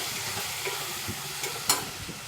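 Khichdi with salt and turmeric being sautéed in a pan, a quiet steady sizzle with occasional soft scrapes and taps of a spoon stirring, close up, with no one talking.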